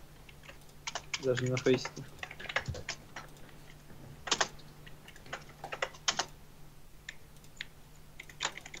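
Clattery computer keyboard typing on a broken keyboard, in irregular bursts of key clicks, some loud and close, spread across the clip with a brief stretch of speech in the middle.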